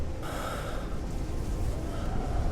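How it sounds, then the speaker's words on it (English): An injured car crash victim in a driving-rescue game breathes in steady, heavy gasps and snorts, close and continuous over a low ambient rumble. "Okay, so he's breathing, so that's good."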